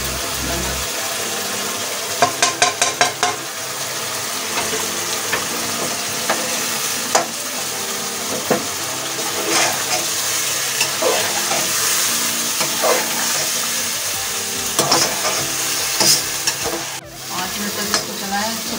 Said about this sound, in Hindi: इसको चलाएं अच्छी तरह से, सभी मसाला जिससे मिक्स हो जाए।